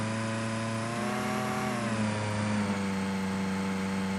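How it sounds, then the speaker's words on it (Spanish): A simulated car engine in the Electude simulator holds a steady rev at about 2000 to 3000 rpm, a continuous droning hum whose pitch dips slightly midway and then settles, with no talk. "Si dejamos el carro acelerado en aproximadamente unas 2000 revoluciones a 3000"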